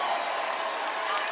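Applause and cheering from a home crowd at a college basketball game swell steadily for a moment, a dense wash of clapping under faint voices.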